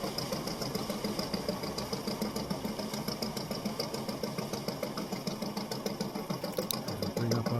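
A fishing boat's engine runs in the game Fishing: Barents Sea, a steady mid-pitched chugging drone with a fast regular pulse, close and continuous, with no speech.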